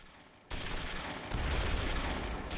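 Gunfire in the wartime strategy game Close Combat III, a dense, continuous roar of overlapping automatic and rifle fire that swells louder partway through, harsh and unbroken with no talk.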